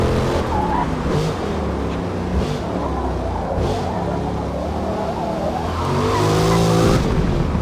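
A race car on a Forza Motorsport circuit brakes hard and accelerates hard. The engine whines up and down in pitch, with tires squealing as it slows, then a louder rising roar near the end. No voice is heard over it.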